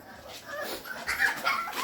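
Hungry American Bully puppies whimper and yip close by in a short burst of high, thin cries that grow louder toward the end.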